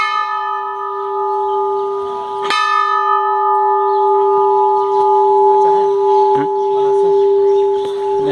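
A bell rings with a strong sustained tone and rich overtones, struck again sharply partway through and left humming steadily; voices and background activity murmur underneath.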